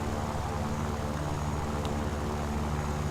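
A propeller-driven warplane engine drones steadily in the War Thunder game, with a Junkers 87D-3 dive bomber nearby, a constant near hum holding level throughout with no talk.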